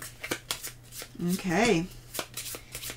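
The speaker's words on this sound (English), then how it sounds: "we will shuffle these back up" Cards from the Wingspan board game being shuffled in a short riffle burst, close and crisp, with a brief spoken word before it and soft handling sounds around it.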